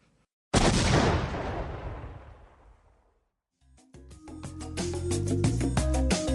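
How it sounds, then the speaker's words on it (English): A sudden loud explosion sound effect with a long decaying roar, then a short silence before busy, punchy music kicks in. "Love hearing that explosion."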